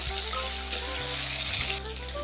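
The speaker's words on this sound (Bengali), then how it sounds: "এগুলি ভালোভাবে ভেজে নেওয়ার পর আমরা এতে দিয়ে দেবো টমেটো কুচি।" Chopped tomatoes go into cumin and dried chilli frying in oil for a vegetarian dum aloo, a steady close sizzle and hiss running throughout with a faint tonal hum beneath.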